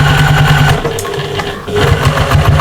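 Sewing machine stitching a 1/4 inch seam through nested layers of patchwork fabric for a shopper bag, running as a steady, loud mechanical whir with a rapid rhythmic needle chatter and a brief slowdown midway.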